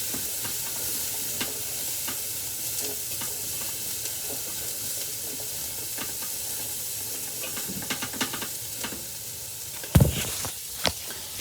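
Onions, celery and carrots stirred and sautéing in a pot for Greek chicken avgolemono soup, a steady close sizzle with scraping spoon strokes and a louder clatter of stirring near the end.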